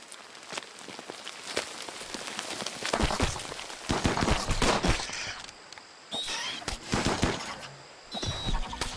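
Dense, rapid crackling gunfire in a shooter game against bugs, loud and near, coming in bursts with short gaps and occasional high electronic chirps, no talking.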